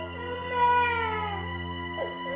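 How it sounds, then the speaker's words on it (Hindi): A baby wails in a Hindi TV serial drama scene, a sustained, tonal cry that swells around the middle and rises again near the end, close and fairly loud. "बच्चा रो रहा है, उसे चुप कराने के बजाय चिल्ला रही है उस पर"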